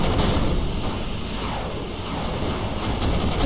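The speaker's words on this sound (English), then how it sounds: "Rocket tanks moving in, taking out all those tanks." Rocket tanks attacking in the 8-Bit Invaders video game: a dense, continuous wash of booming and crashing battle fire, loud and sustained throughout with no pauses and no talk.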